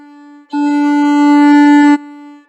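Violin bowing one long sustained note on the D string in the Hot Cross Buns exercise, a single steady close tone lasting about a second and a half, with a quieter open string ringing before it and no talking.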